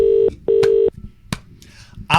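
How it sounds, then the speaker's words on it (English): Telephone keypad tones sound as two long sustained dialing beeps, each about a third of a second, followed by a few faint clicks and a brief bright burst at the end. "I'm going to phone this number"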